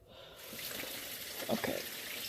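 Tap water running steadily into a kitchen sink while greasy dishes are washed, a constant close rush of water with faint splashing and clinks of handled items.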